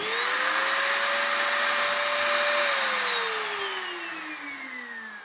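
A handheld router spins up with a rising whine to a loud, steady high-pitched roar, then slowly winds down in pitch as it coasts, with no talk.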